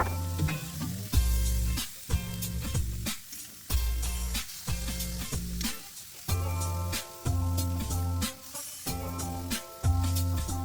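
Pork chops sizzle on a barbecue grill, a steady loud crackling fry running throughout with a few brief dips where the sizzle drops back, no voices.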